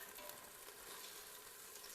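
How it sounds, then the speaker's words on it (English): Meat sears and sizzles in an Instant Pot while it browns, a dense, steady, close frying hiss with no break and no voices. "just trying to brown each side up, getting it seared to help lock in the juices"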